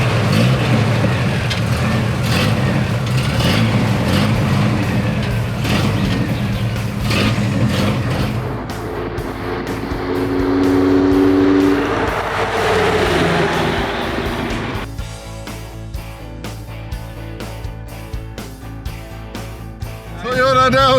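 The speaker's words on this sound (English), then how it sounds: "Let's get back in the Toyota and move on." A worn-out $1,500 beater Toyota car driving down the road on a cross-country trip, with a steady engine and road rumble that swells and eases, plus a few faint voices underneath.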